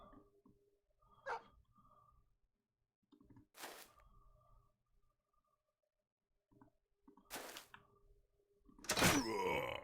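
Game dogs in Battle Brothers' desert combat give a few separate short barks and yelps, spaced apart over quiet gaps, ending in a louder, longer snarling burst.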